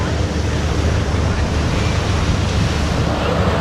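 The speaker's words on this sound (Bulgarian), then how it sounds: "Ето това е Джумейра Бич." Waves and strong wind at Jumeirah Beach in Dubai, a loud, continuous roar of surf mixed with heavy wind buffeting the microphone, with no break in the noise.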